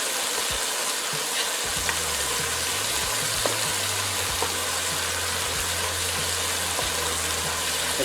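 Spices being stirred and fried in a pan for Peruvian seco de pollo with cilantro, a steady close sizzle with scraping stir strokes running throughout, no voices.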